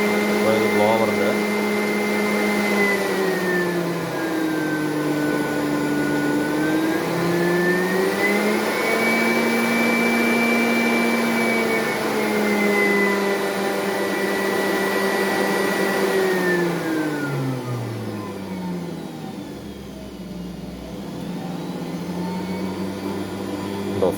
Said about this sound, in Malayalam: ബ്ലോവർ ഓണാണ്.